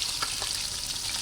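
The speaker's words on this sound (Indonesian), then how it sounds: "Yang mau goreng ayam aja, ayam tepung, pakai tepung serbaguna itu aja" Flour-coated chicken pieces frying in hot oil, a dense, continuous crackling sizzle at close range with no voices.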